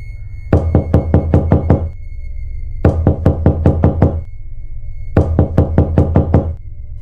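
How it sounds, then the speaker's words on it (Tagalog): Loud knocking on a door in three bursts of about seven rapid, hard raps each, close and alone, with brief pauses between bursts. "Dahil papalakas na ng papalakas ang katok, ay parang masisira na ang pintuan."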